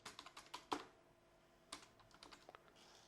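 Quick bursts of keystrokes on a computer keyboard while writing PHP CodeIgniter code, a rapid cluster of clicks, a pause, then a few more scattered taps, close and fairly quiet with no talking.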